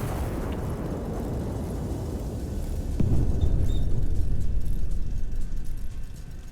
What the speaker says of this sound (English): Gun is armed, locked, and firing.